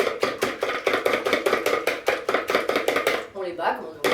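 Eggs beaten briskly with a whisk in a bowl for a courgette and pine nut cake, giving a fast, even run of sharp taps and clicks. The sound is close and loud, with no talk, and it slows near the end.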